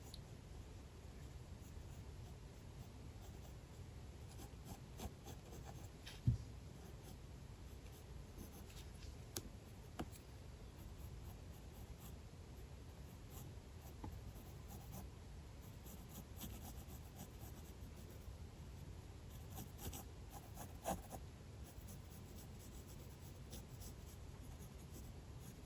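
Pencil drawing on paper in a quiet ASMR setting, a soft continuous scratching and rubbing of graphite, close and steady for the whole stretch with a few light taps, no talking.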